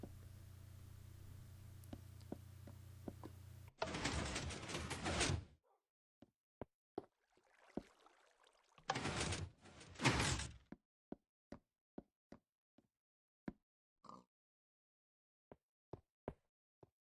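Blocky sliding and thudding door sounds in Minecraft come in two loud bursts, followed by a series of sharp isolated clicks and taps, with near silence between them.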